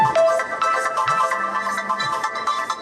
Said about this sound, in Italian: Il telefono squilla